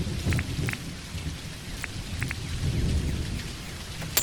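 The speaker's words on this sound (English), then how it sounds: "so this is the thunderstorm" A thunderstorm in the video game Dinkum: steady rain patters and hisses throughout while low thunder rumbles rise and fade in the background, with occasional sharper drip-like ticks.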